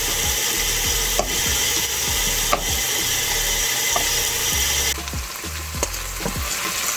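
Meat browning in a frying pan: a constant loud sizzle and crackle, with repeated scraping strokes of a utensil stirring the pan at a steady rhythm, close up and with no talking.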